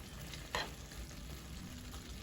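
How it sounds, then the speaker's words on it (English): Mango halves frying skin side down in a pan give a quiet, faint sizzle with a few soft crackles and scrapes. "So I'll flip the mangoes over so they can be skin side down"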